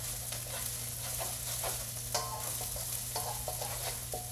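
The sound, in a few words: stirring aromatics frying in a pan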